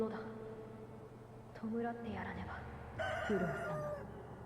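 A chicken in a video game crows and clucks in short bursts, with game voices speaking over and around it.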